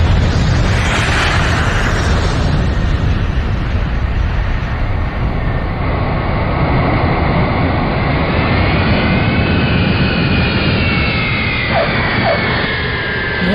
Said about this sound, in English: we'll land the plane, and then we'll take us off